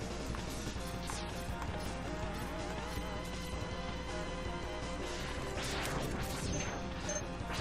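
Loud, dense crashing and smashing as robots are crushed into compact pieces in a video game, steady and busy throughout with metallic clatter and layered game noise, no talk.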